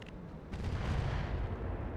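Missiles launching in the mech strategy game RogueTech, a deep booming rumble of fire that swells after a brief lead-in and rolls on heavily to the end.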